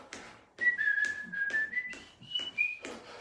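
A person whistles a short melody at a fitness boot camp class, several sustained and sliding notes in quick phrases, clear and fairly close, with no talk over it.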